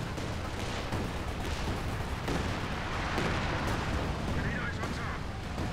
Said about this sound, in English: Land mattress firing some rockets in.